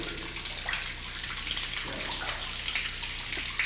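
Water running steadily into a flooded crawl space in a school building, a continuous splashing, trickling rush with faint drips, constant in level throughout.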